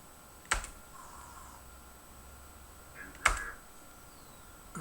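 Two sharp keystrokes on a computer keyboard while setting up the MSX2 game Laydock, spaced a few seconds apart and fairly close, over a quiet background hum.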